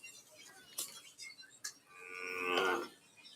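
A Maasai herder's cow moos once, a drawn-out nasal low close by after a few soft knocks and rustles in an otherwise quiet outdoor setting.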